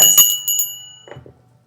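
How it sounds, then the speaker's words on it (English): A bell rings out loud and near, a couple of bright quick dings that trail off into a fading ring, with a brief soft murmur of a voice near the end. "Let me ring the bell for you."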